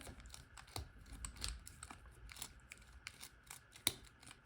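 A lock pick works the discs inside an Abloy Classic PL350 padlock, giving small metallic clicks and scrapes in an uneven sequence, close and quiet, with one sharper click near the end.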